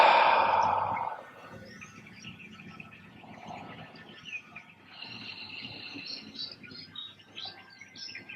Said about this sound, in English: Exhale through your mouth.